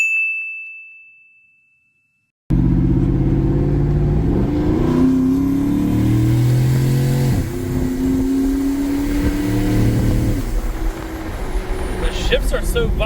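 A 2017 Ford F-150 with a twin-turbo Coyote engine and performance kit accelerates hard, engine roaring loud and steady with audible gear shifts, following a chime at the start; voices are faintly present.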